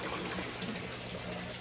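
Aquaponics water pumped over a greenhouse trellis and dropping straight into a pond, a quiet, steady trickling splash heard on its own.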